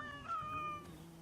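Several cats meowing in Assassin's Creed Origins, a few overlapping high mews close by over a steady low game ambience, lasting about a second.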